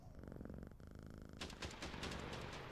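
A cat purrs in the video game Quarantine Zone, a rhythmic low rumble close up, followed by a burst of louder crackling pops that sound like gunfire.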